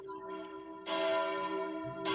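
A single church bell chime rings out, sustained and ringing with a clear tone, followed by a second brighter strike near the end.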